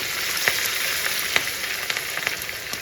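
Garlic and Kashmiri chili powder fry in oil over low heat, giving a steady close sizzle with a few sharp crackles and pops spread through the clip, no voices.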